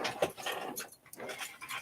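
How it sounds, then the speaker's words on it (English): Sammy the dog pants loudly and noisily close by, with rough breathy bursts and a short whimpering catch, heard indoors with no talking over it. "You're going to wake Daddy up even barking out there."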